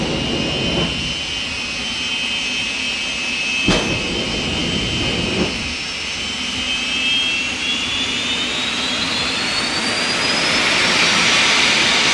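A jet-powered drag racing vehicle at Santa Pod roars with a loud, sustained turbine drone and high whine that slowly rises in pitch, with a couple of sharp pops or cracks partway through.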